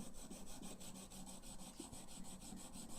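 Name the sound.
Chinese ink stick being ground on an inkstone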